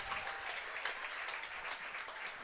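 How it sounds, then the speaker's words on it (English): A crowd at a baseball playoff game between Hamilton and Guelph cheers and claps in a steady, energetic roar, with scattered sharper claps rising out of the continuous wash. "a loud, energetic crowd cheering him on"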